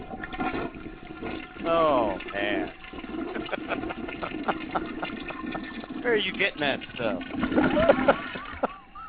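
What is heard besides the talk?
toilet flush sound effect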